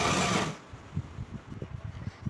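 A sewing machine stitches a blouse, a rapid run of soft mechanical clacks and thumps in uneven bursts that follows a brief loud rush of noise, close and with no voices.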